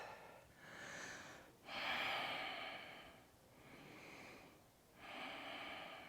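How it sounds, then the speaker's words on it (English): Slow, deep breaths during a yoga practice in a warm living room, long audible inhales and exhales in a steady rhythm, close and fairly soft, with no talk. "Okay, and breathe."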